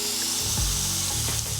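Cumin seeds, minced garlic and ginger stirred in a pan over low heat, a close scraping and sizzling rub with a few sharper strokes of the spoon, steady throughout.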